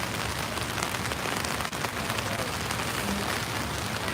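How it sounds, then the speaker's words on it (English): Steady rain pours down, a dense continuous hiss of drops striking surfaces nearby, unbroken and fairly loud throughout. "Yeah, it's starting to come down. It's raining."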